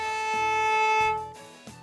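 A violin's open A string rings as one long, even bowed tone, close and clear, then trails off into quiet room tone.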